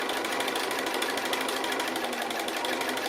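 A sewing machine runs continuously in free-motion stitching, tracing a scalloped edge on a quilt; a fast, even needle rattle, close and steady throughout, with no talking.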